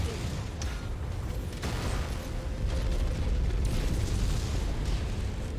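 Loud, continuous barrage of missile explosions from battling mechs in MechWarrior 5, a dense rumbling roar of blasts and bursts filling the whole stretch with sharper pops recurring throughout.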